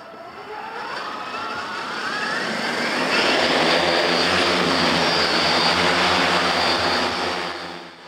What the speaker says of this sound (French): Pour preuve, voici l'un des drones d'Agrofly.